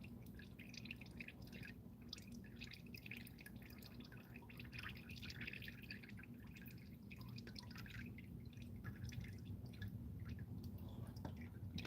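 Oil drains from a Volvo during an oil change, a faint steady trickle and drip into a pan beneath a continuous low hum in a garage, with no talking.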